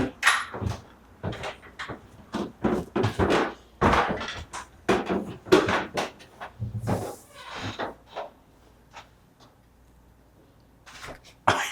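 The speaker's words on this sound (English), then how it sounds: "That was just a door." A door thunks shut with a few sharp knocks and bumps scattered among softer movement noises, moderately close, in a supposedly haunted building in Gettysburg or Centralia.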